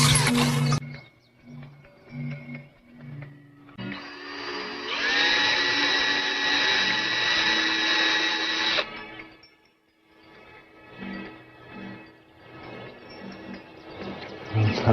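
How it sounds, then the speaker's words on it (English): A hole is drilled by hand into bent wood, with a rising, sustained grinding whir in the middle followed by softer scraping and clicking, preceded by short rhythmic knocks. "he drills a hole just at the right spot"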